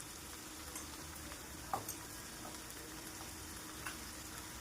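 Bitter gourd frying in a pan with a soft, steady sizzle throughout, broken by a few faint clicks and taps of stirring.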